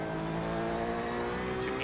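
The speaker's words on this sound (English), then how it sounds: "There's a faster car approaching." In a Le Mans endurance racing game, a faster race car closes in from behind, its engine a loud, sustained, rising whine over the steady drone of the player's own car.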